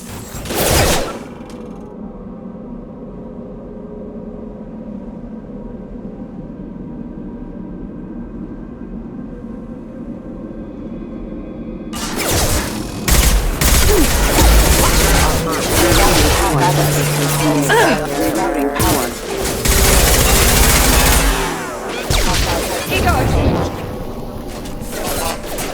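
Loud, rapid gunfire and heavy booms erupt in Mass Effect 2 combat against hostile mechs, following a stretch of quieter ambient hum; shots come in dense, irregular bursts with voices calling out among them.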